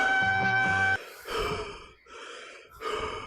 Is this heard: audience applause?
no